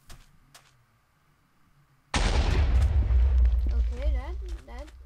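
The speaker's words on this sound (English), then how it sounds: "So that's the explosion of a Savannah TNT" After a quiet stretch with faint ticking, a Savannah TNT block in Minecraft with the Goblins and Giants mod erupts in a sudden loud blast, and a deep rumble rolls on under warbling tones.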